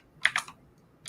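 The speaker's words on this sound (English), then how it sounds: "I can hear Nathan lovely typing again" Computer keyboard being typed on, a few crisp clicky keystrokes in a quick cluster, then a pause and one more, close and fairly faint.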